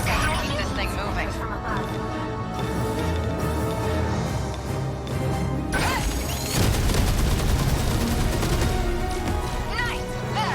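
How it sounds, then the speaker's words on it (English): Massed turrets firing in the video game 13 Sentinels: Aegis Rim, a dense continuous barrage of booms and rapid gunfire with swelling bursts, loud and close, layered under music and a talking voice. "I love hearing the sound of all the turrets going off, though"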